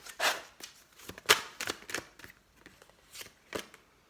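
Tarot cards being shuffled and drawn by hand, a series of crisp close flicks and slaps at uneven intervals in a quiet room, no talking.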